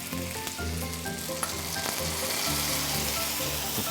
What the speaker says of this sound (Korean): 규동 타레와 물을 섞은 소스를 부어 주시면 돼요.